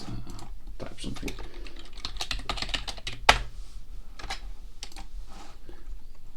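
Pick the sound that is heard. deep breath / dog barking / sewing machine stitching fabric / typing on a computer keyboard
typing on a computer keyboard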